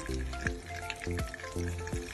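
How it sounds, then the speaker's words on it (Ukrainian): Sandwiches topped with minced meat and beaten egg fry in a pan over low heat, giving a steady crackling sizzle with a few soft stir-like pulses and no voices. "І на сковорідку. І хай жаряться на невеликому вогні під закритою кришкою."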